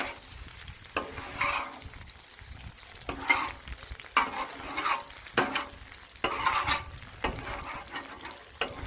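A patty melt sizzles on a Blackstone flat-top griddle under repeated scraping spatula strokes, with a steady frying hiss between the strokes.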